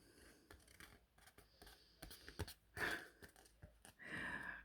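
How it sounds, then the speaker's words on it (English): Scissors snipping off a piece of a handmade craft project, a few short crisp cuts with soft handling noise between, close and fairly quiet with no talk. "I'm going to cut it off because it may look a bit silly on the back"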